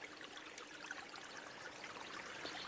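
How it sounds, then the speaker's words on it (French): Small, usually dry streams running full after rainfall, a steady trickling gurgle of flowing water, soft and continuous with no voices. "les petits ruisseaux qui sont en général à sec fonctionnent intégralement, comme vous pouvez le voir ici"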